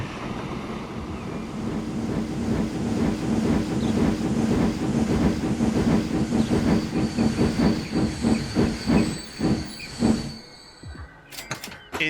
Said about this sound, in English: Thomas the Tank is working the logs. We have steam on the UK-inspired rail network.